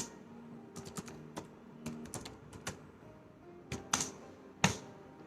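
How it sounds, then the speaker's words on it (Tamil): Typing on a computer keyboard, a run of sharp, irregular key clicks with a few louder taps, close and clear over a low steady background hum. "இப்போ இங்கே டைப் பண்ணுறேன்."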